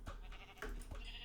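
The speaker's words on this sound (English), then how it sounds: "I see some black sheep here" A game sheep bleats a few times in quick succession, close and fairly clear, with no talking over it.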